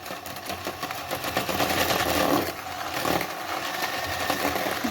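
An electric mixer beats flour, ghee and sugar together for petit four dough, giving a steady, fairly loud motor whir with a churning rattle that holds throughout, and no voices.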